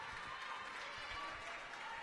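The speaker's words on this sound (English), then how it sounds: "crowd getting very vocal here, not overly happy with the ref" Water polo spectators at a women's final between Drogheda and Saint Vincents keep up a steady, dense roar of crowd noise and clapping, voicing displeasure at the referee throughout.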